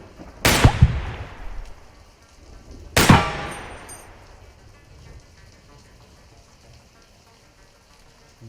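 Gunfire in the video game Receiver 2, two sharp loud handgun reports about two and a half seconds apart, each followed by a long decaying echo and then quieter clicks and handling noise, with no voices.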